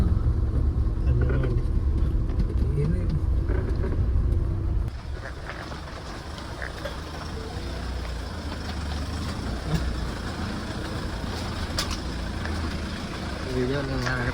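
A Mahindra Thar cruises along the road, producing a steady low rumble of engine and tyre noise that is heavier for the first few seconds, then eases into a smoother, quieter drone.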